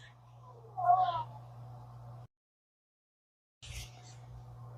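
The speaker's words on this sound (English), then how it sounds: "My cat is not leaving me alone" A pet cat meows once, close and fairly loud, over a steady low hum in a quiet room where someone is crocheting; a second fainter call follows after a brief gap.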